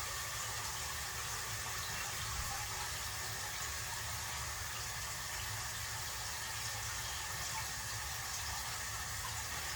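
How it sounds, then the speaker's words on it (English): A bucket steadily filling with water for a 75-gallon fish tank water change, a constant rushing, hissing flow that stays even and unbroken throughout. "almost done with filling the 3rd bucket."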